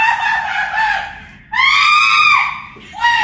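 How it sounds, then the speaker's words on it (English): A woman screams loudly at a store checkout register in two long, wavering bursts with a short gap between them, and a third scream starts at the end. "So she's at the register and she's screaming."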